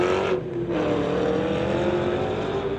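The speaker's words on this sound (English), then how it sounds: "Mustang just taken off" A street-legal Mustang drag car launches down the strip at a drag race, its engine a loud, sustained roar with a brief dip early on, heard close and with no talk over it.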